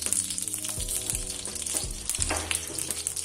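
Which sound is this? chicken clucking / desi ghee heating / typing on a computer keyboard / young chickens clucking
desi ghee heating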